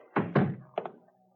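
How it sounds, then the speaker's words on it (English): A door closing in an old radio drama, two close, heavy wooden thunks followed by a lighter double knock-like latch sound, with no voices. "Close the door, knuckle brain."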